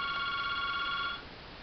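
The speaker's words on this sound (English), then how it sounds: "The phone's ringing." A telephone rings indoors with a sustained electronic tone that stops abruptly about two-thirds of the way through, leaving quiet room noise.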